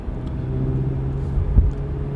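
A sports car's engine rumbles low and steady from inside the cabin while driving on the road, swelling briefly for a moment before settling back.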